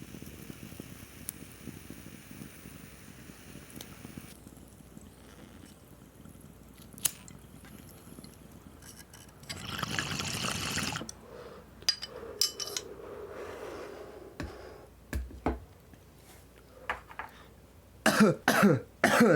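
A bong hit with a sustained bubbling, gurgling burst midway, followed by harsh coughing and throat clearing, several sharp, loud coughs near the end; no talking.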